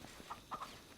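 A chicken gives a few quick, faint clucks, with two soft bursts close together over quiet background noise.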